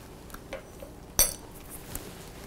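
A single sharp metallic clink of a spoon against a bowl stands out amid faint, scattered kitchen clatter and quiet room tone.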